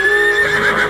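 A war horse gives a single loud, close whinny as it sets off, with faint hoof clops beneath.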